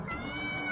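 A cat meows in a short, sustained call that holds steady for under a second, fairly close and alone with no voices over it.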